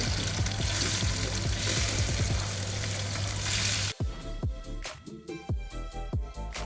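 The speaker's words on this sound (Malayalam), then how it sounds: "ഒരു പാനിലോട്ട് വെളിച്ചെണ്ണ ഒഴിച്ച് കൊടുത്ത് നമുക്ക് മീൻ ഫ്രൈ ചെയ്തെടുക്കാം" Fish fries in coconut oil in a pan, a loud dense sizzle for about four seconds, then the sound cuts to quieter crackles with bubbling spits and pops.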